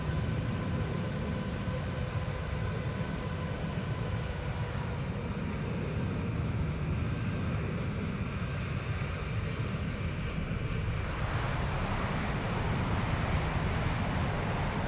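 A Boeing 787 in the X-Plane 11 flight simulator rolls through its landing, a steady loud roar of engine and wind noise that shifts tone partway through, with no voices.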